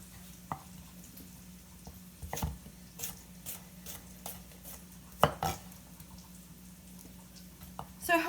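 A knife slices asparagus on a cutting board, giving a series of sharp, irregular taps and thuds near the mic, with a louder clatter partway through and another toward the end, over a quiet kitchen background.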